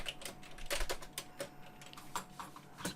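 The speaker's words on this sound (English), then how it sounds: "You can type some text and save it" Close, quiet typing of text on a computer keyboard, a steady run of separate clicking keystrokes with uneven spacing and no speech.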